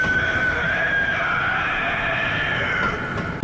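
A Bloodborne boss lets out a loud, sustained scream, a harsh shrieking wail that holds steady for several seconds and is heard alone without talking.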